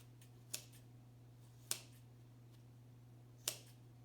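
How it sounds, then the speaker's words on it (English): Scissors cutting sponge into hoof-shaped pieces for a craft, heard as three sharp, isolated snips spaced about a second apart over a steady low hum. "So we're just going to cut until we have one part of our hoof cut out."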